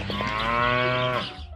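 One cow on a small family farm gives a single long, loud, close moo lasting just over a second before trailing off.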